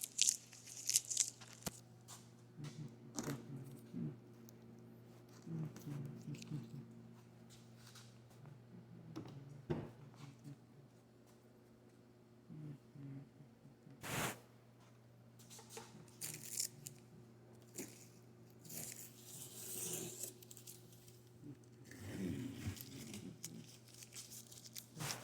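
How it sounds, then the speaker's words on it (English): Tape being peeled off a Chevy Cruze car door during a door repair, faint intermittent crackly tearing and sticky pulls in short bursts with scattered clicks, quiet and close. "Just take all this tape off."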